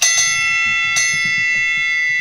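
A bell rings with a bright sustained metallic tone, struck twice with a third strike at the end, the ringing lingering over a soft low murmur.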